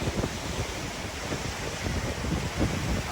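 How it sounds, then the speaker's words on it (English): Continuous roar of ocean surf and gusting wind buffeting the microphone along a beach walk, loud and steady for the whole stretch with no voice heard. "I hope y'all can hear me, because the waves and wind"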